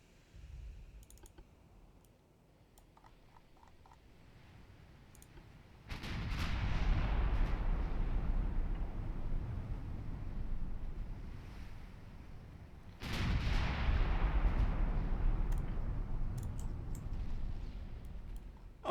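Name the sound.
12-inch naval gun firing, Ultimate Admiral Dreadnoughts video game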